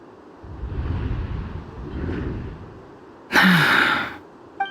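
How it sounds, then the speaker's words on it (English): A character in Genshin Impact lets out audible breaths, with soft airy exhales early on, then a sharp, loud gasp-like intake near the end over faint background wind. "I heard Yehuda gasp."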